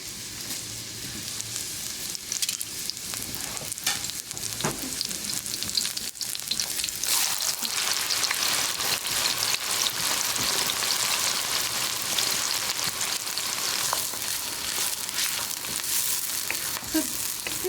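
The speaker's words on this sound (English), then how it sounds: "So this is a particular cooking sound that is only particular when this oil is hot and you're cooking" Cumin and spices frying in hot oil give a steady, loud, dense sizzle close by that carries on without pause, with faint stirring and crackles throughout.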